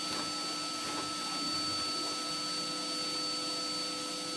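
A Hoover vacuum cleaner runs continuously while an open fireplace is swept, a steady loud whine with a high-pitched tone, alone without voices.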